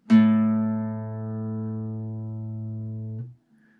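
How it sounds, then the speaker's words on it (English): A classical guitar's open A string sounds a low, warm note that sustains evenly for about three seconds, then is cut off. "The 5th string is tuned to the note A."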